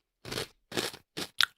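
Close, loud crunching of a salty, peppery snack shaped like a banana comes in four quick chewing bursts, each sharp and crisp, with no talking.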